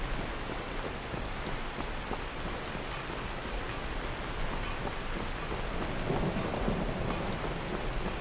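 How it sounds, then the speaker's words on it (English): Thunderstorm raging outside a window, with steady heavy rain and low rolling thunder rumbling throughout, swelling louder toward the end; no voices. "a thunder cracked outside my window, and there was another one just now"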